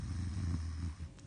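A giant's deep, rumbling snore drones low and steady through one long, breath-like stretch, heard alone at moderate loudness.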